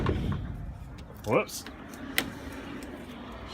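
The door of a Sprinter van being built out with DIY insulation is closed and locked: a brief motorized whir is followed by a sharp latch click. Someone speaks briefly beforehand.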